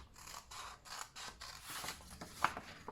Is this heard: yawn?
no